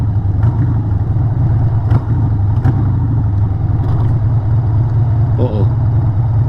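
A Harley-Davidson motorcycle engine runs with a steady, loud, rough rumble after a ride on Wisconsin roads, with a light clattering tick from the bike as a voice briefly comes through.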